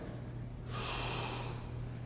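A sharp, noisy intake of breath after a startle, as in a fall, bursts in suddenly, holds loudly for almost a second and then eases off. Steady low hum sits underneath.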